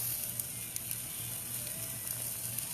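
Steady sizzle of a T-bone steak over an outdoor hotel grill fire at a Residence Inn in Durango, Colorado, a continuous close crackle with occasional sharper pops and no talk.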